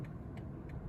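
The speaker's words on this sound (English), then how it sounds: "even just pulling away, you can see it's got plenty of power if you want it" A 2025 BMW 120 Sport with 170 horsepower pulls away in busy race-weekend traffic in Cheltenham, giving a steady low engine drone close by with no talk over it.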